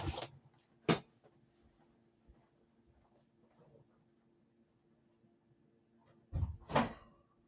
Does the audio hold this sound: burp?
no